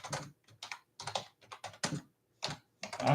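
Bursts of typing on a computer keyboard, irregular clusters of clicks with short pauses between, close and fairly clear with no talking.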